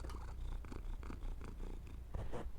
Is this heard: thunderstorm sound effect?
no